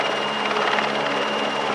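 A Czech air force camouflage helicopter performing at an air display, its rotor and engine roar steady and loud throughout without any talk.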